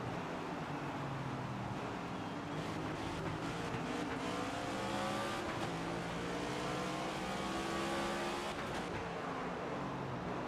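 Race car engines in the NASCAR 25 video game drone steadily at high revs, a dense pack of cars humming and whining together with faint shifts in pitch and no break in the noise.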